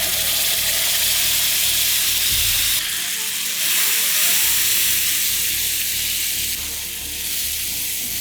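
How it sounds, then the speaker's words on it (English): Korma paste fries in hot oil tempered with cumin seeds, giving a loud, continuous close-up hiss and sizzle with slight surges as it settles, and no voices. "let's add in the korma paste"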